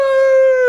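A person imitates a hippopotamus with a single loud, sustained, wolf-like howling tone that holds steady for under a second.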